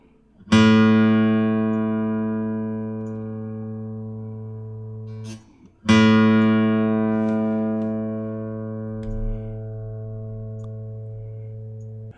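An open A string on a guitar plucked twice for tuning, each note struck cleanly and left ringing for about five seconds before fading, with a short pause between them.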